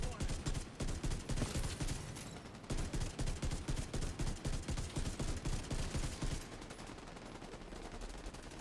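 Rapid automatic fire from the Ravenous exotic rifle in The Division 2 rattles in two long bursts of evenly spaced, punchy shots, broken by a brief pause, then fades to quieter background noise at the end.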